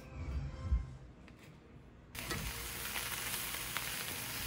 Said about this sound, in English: Sauteing these onions with some bacon grease is the best